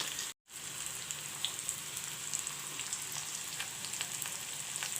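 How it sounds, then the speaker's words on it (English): Garlic potatoes fry in a pan, a steady soft sizzle with scattered crackles and pops, close and fairly quiet, interrupted by a brief dropout near the start, with no voices. "Let the potatoes fry"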